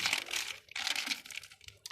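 A large, heavy bag of lemon-scented laundry soap powder being shaken hard, giving close, loud crinkling plastic rustles in uneven bursts with brief pauses between shakes.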